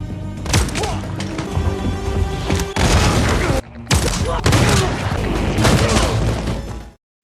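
Close-range gunfire in the action film Nobody (2021): dense, rapid bursts of shots and heavy impacts, loud and continuous, with a brief pause before the barrage resumes and then cuts off.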